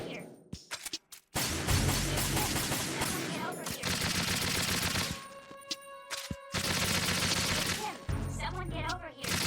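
Bursts of rapid gunfire from the video game Metal Gear Solid 2 crackle in loud stretches broken by short silences, with sharp cracks, impacts and faint game voices mixed in.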